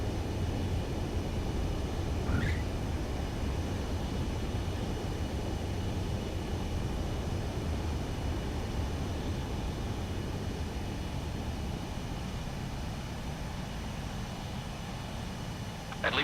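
A fighter jet landing on a runway in the video game Ace Combat 7: a steady, loud engine roar and rushing air holding the whole time, with a faint rising whine near the start.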